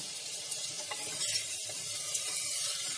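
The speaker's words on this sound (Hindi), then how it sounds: "अब हम इसमें आधा चम्मच घी भी डाल रहे हैं फॉर फ्लेवर" Homemade ghee added to mutton and white chickpeas sizzles in hot oil in a pan, a soft steady hiss with faint stirring scrapes and no talk.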